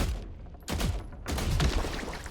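Weapons firing in The Last Caretaker game: loud, rapid bursts of gunfire in close succession, with a brief lull between volleys.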